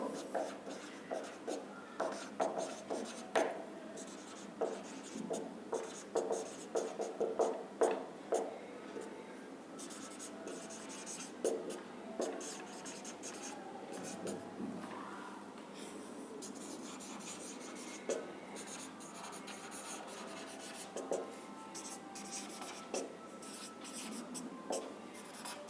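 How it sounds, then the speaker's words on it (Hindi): Marker or chalk writing out the months on a board, with irregular scratchy strokes and rubbing at close range, denser in the first half and sparser later, with no talking over it. "यहां पे मंथ लिख लेते हैं हम लोग।"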